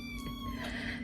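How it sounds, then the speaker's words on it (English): A Siberian forest cat kitten gives a soft, close meow, quiet and short, over a steady low hum in an indoor room. "She's a Siberian cat, Siberian forest cat."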